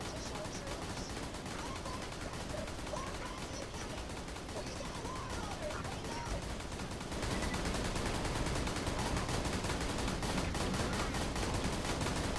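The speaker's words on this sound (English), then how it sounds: "now both Tokigi and I are doing insane amounts of damage and shooting insanely fast." Rapid automatic gunfire in the video game Borderlands 2 rattles continuously as a dense stream of shots, growing louder and busier partway through, with game effects layered underneath.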